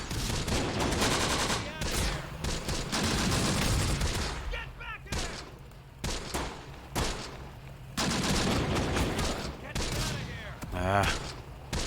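Artillery and gunfire in the WWII strategy game Close Combat: The Bloody First during armor fighting at Sbiba Ridge, with repeated loud booms and rattling bursts overlapping in dense volleys and brief lulls.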